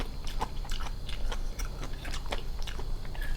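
Close, wet chewing and biting on giant sweet snails served with Lao papaya salad and vegetables, a steady run of crunchy, smacking mouth sounds with no talking.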